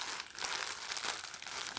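Continuous crinkling and rustling of a plastic bag from a Supreme x Honda x Fox moto jersey, close and steady with small crackling bursts throughout.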